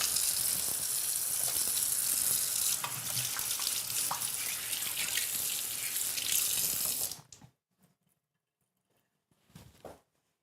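Tap water runs steadily and loudly over tomatillos being washed in a sink for about seven seconds, then cuts off, leaving near silence with a brief clatter near the end.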